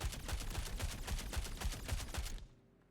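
A space AK fires a steady, rapid burst in the video game Star Citizen, with evenly spaced shots for over two seconds before cutting off.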